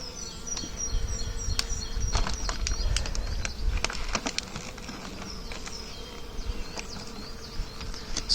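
Bees buzz steadily around a hive on a farm in early spring, a dense low drone with sharper passing buzzes of individual bees flying close by, continuous and fairly loud throughout.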